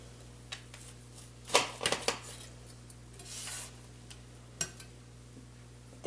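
A knife slicing through a cooled, glazed rum cake on a hard surface, giving a few soft scraping and tapping contacts, clustered early and one more later, against a steady low hum.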